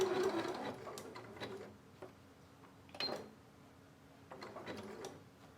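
A sewing machine stitches a zigzag to attach a fabric scrap to R2 batting, running faintly in short intermittent bursts of mechanical whirring and clatter separated by brief pauses.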